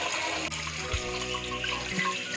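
Chicken feet being scrubbed clean under a running kitchen tap, a steady close stream of water splashing into a sink with brief handling bumps.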